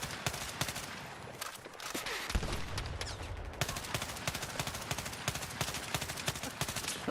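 Rapid automatic gunfire rattles in a tank video game, a dense run of fast, even bursts that keeps going throughout at a moderate distance.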